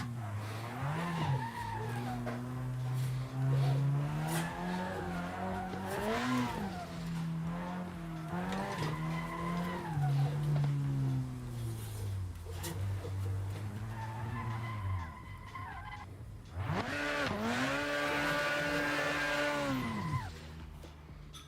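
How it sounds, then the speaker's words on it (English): A car in the racing game Assetto Corsa drifts, its engine revving and dropping through repeated slides, with long tire squeals and skids, then a sharp burst of revving and screeching near the end. "as far as like realism, Assetto's probably as close as you can get for drifting"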